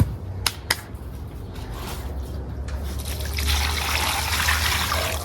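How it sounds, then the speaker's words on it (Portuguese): Water poured and stirred into a container of garden mix with stones, a couple of sharp taps at the start, then a steady trickle that swells into a fuller, splashing pour, close by. "Eu vou misturar água aqui agora."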